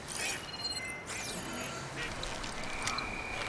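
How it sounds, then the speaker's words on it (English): Duck quacking in the video game Horizon Forbidden West, faint scattered calls over a dense, noisy wash of ambient game sound at low level. "If it flies like a duck and quacks like a duck and effortlessly avoids my arrow like a duck, it's a duck."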